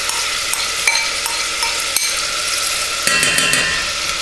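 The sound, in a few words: smoked bacon lardons sizzling in melted butter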